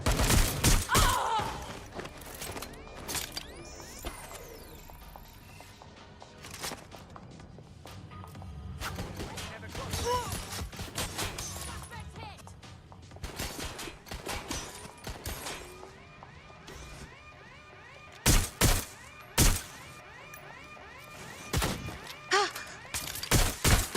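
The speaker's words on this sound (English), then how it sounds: "Shots fired!" Gunfire in Watch Dogs: Legion, a chaotic stretch of scattered shots with sharp, loud bursts clustering near the end, mixed with other game action.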